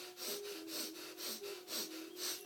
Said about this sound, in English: Keep up with the breath. Breath of fire, breath of light.